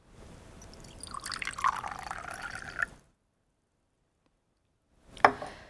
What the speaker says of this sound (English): when you pour the liquid from one container into another